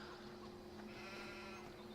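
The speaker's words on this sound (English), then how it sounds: "the sheep are doing good here" Sheep bleat in a farming video game, a faint, steady wavering bleat held over a continuous droning background hum, with no talking.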